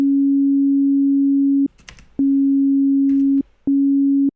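A pure synthesized sine tone on C sharp loops, holding steady then cutting out in two brief gaps filled with faint clicks and rustle, loud and close with no voices.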